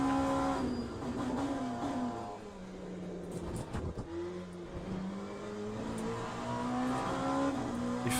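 An LMP2 prototype race car engine in the sim racing game Le Mans Ultimate drones steadily throughout, its pitch climbing and dropping through gear changes, with a brief dip near the middle.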